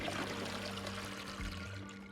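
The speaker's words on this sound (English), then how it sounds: "Wait, it sounds like a toilet." Water pours and gurgles briefly in a toilet flush from the video game Honkai: Star Rail, a quiet rushing swirl lasting a couple of seconds with no voices.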